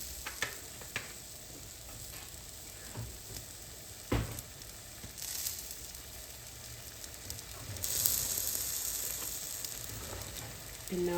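Garlic and ginger sizzle in hot oil with a steady, moderate hiss, broken by a few scraping stirs and clacks of a utensil, close by and without talk.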